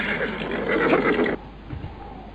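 A horse whinnies loudly up close with a long, harsh, roaring neigh that cuts off abruptly, then a quieter, rumbling outdoor tail follows.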